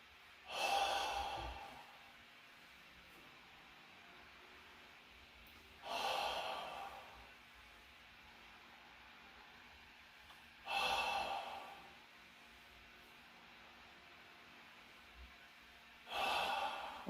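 Four forceful, breathy exhalations at even intervals about five seconds apart, close and soft, during a guided meditation, with near silence between each breath.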